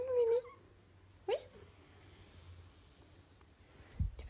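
A kitten named Mimi gives a few short, high mews spaced apart, fairly close, with someone talking quietly in between.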